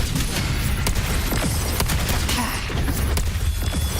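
Gunfire in the video game Wuthering Waves forms a dense, continuous barrage of rapid shots and impacts, loud and close throughout, with a character's voice lines under the din.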